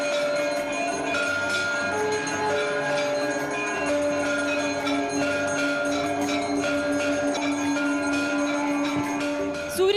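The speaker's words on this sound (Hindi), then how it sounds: "राम मंदिर परिसर शंख और घंटियों से गूंज उठा" Temple bells clang and ring in a dense, continuous wash at the Ram Mandir complex during the Ram Navami surya tilak ceremony, with sustained tones and strikes layered over a loud crowd-like background, and conch-like drones possible underneath.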